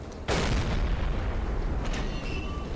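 Submarine deck guns fire in the Silent Hunter 3 naval game, one loud sharp boom with a long rumbling decay, followed by fainter distant pops and whistling sounds.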